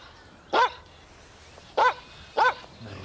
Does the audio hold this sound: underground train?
no